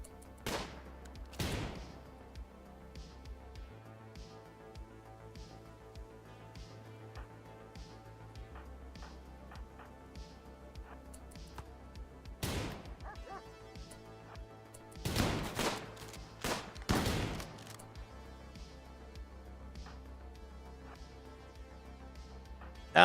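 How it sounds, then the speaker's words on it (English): Scattered shotgun blasts in a RimWorld firefight, sharp isolated cracks spaced irregularly over a low steady music drone, with a tight cluster of shots near the middle and no talk. "Alex, you're shooting from way too far."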